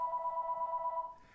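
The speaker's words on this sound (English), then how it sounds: "We got a phone call" An incoming call sets a telephone ringing, a steady warbling electronic trill that sounds clearly for about a second before cutting off.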